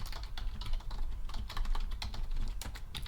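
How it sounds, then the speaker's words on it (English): Rapid typing on a computer keyboard, with dense, uneven bursts of clicking keys close up and continuing steadily throughout. "I'm typing faster because of the time."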